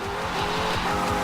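A Hellcat Dodge Charger in the racing game Forza Horizon 2, its engine roaring loud and close with tires squealing as it slides, a brief continuous burst of engine and skid noise.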